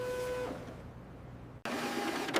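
A Canon PIXMA E470 inkjet printer making a photocopy, a mechanical whirring hum with tonal motor whine that stops briefly and then resumes with a sharp clack and renewed feeding noise, heard close with no talk.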